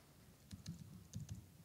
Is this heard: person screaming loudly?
no